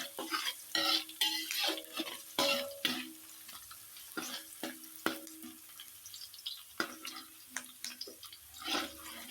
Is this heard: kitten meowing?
no